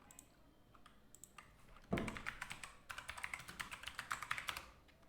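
A computer keyboard is typed on to enter a single word, with quiet scattered clicks first and then a dense, rapid run of close, crisp keystrokes.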